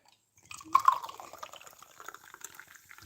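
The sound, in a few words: Fanta soda being poured into a cup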